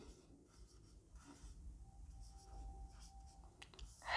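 Quiet pen strokes scratch across paper in short, uneven bursts as a Hindi leave application is handwritten, faint and close.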